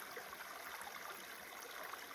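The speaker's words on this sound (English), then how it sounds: "right by this little creek" Small creek flowing beside a trailside campsite on the Pacific Crest Trail, a faint steady burble and trickle of water with no voices.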